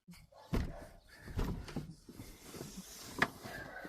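A car door slams shut once, a solid thud followed by a second sharper knock, with faint rustling around it inside a stopped car on the roadside.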